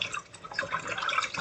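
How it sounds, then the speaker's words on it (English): Collard greens being swished around in a sink of water, with a steady stream of light splashing and dripping sounds close by and no talking. "I got some water in this sink and I'm swishing them around"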